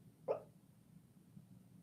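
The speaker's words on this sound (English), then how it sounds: "That's Lilac. She's barking in her sleep." A single short muffled bark or yip from Lilac, a sleeping dog, around a third of a second in, soft and fairly close over a quiet room hum.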